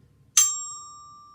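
One clear metallic bell kit tone, note D, struck once and left to ring out, decaying gradually over a quiet background.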